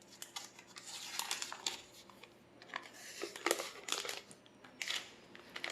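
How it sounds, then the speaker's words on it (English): Plastic protective film peeled off an Asus Zenfone Max Pro M2 with a glossy 3D glass-like back, giving close, irregular crinkling and crackling bursts with sharp ticks throughout, no talk. "Let us peel off the cover."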